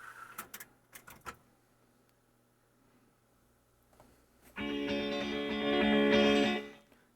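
A Yamaha KX 670 cassette deck, loaded with a cheap tape whose presser pad has come off, clicks a few times. Then its transport starts with a loud, steady mechanical whir and hum that runs for a couple of seconds before cutting off.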